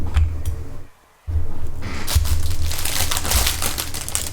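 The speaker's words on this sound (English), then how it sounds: "Let me just take this thing out of the wrapper so I stop crumpling this damn wrapper all over everything." A plastic wrapper is crumpled loudly and close by in bursts of crinkling. A brief silence falls before the crackling resumes, harsher and more continuous.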